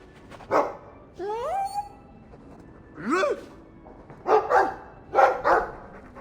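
A dog in the Dragon Age II video game gives several short barks and yelping, whine-like yips in separate bursts over about six seconds, fairly close and clear against a quiet background.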